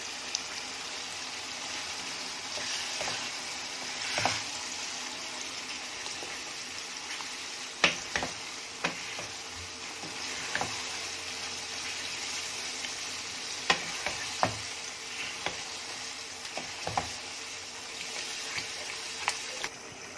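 Minced keema being stirred with fresh yogurt in an Instant Pot: a continuous close sizzle with intermittent scraping and clinking of the spoon against the pot, no voices.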